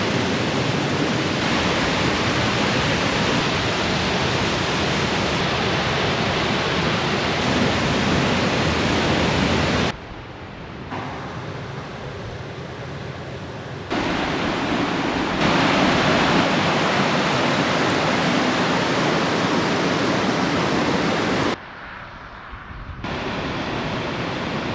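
The Sandy River flowing near its headwaters, a loud, dense and steady rush of water filling the whole clip, cutting abruptly to quieter stretches of flow twice, with no talking.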